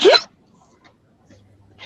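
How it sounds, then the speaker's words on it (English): A single sharp, loud hiccup from a man sits at the very start, followed by near silence with a faint breath or stir toward the end. "Excuse me, I got the hiccups."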